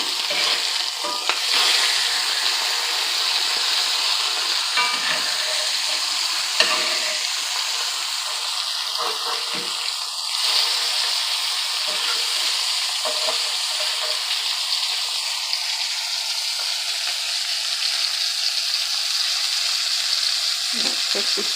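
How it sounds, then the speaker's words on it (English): Small salmon fillets frying skin-side in a hot pan, a steady loud sizzle and crackle running throughout with a few brief scraping knocks. "now we're ready to flip our fish"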